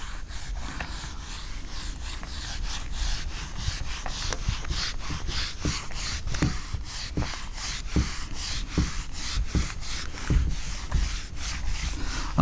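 Rubbing a classroom board clean, rhythmic back-and-forth scrubbing strokes in a steady, fast series, close and continuous, with no speech.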